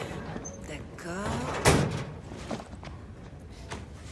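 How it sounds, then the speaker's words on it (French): A door bangs once, a single loud sharp knock amid a busy room, with people talking around it before and after. "Porte."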